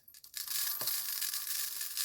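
Pale pink crushed glass pours steadily into a glass jar, a bright continuous hissing rattle after a few brief clinks at the start.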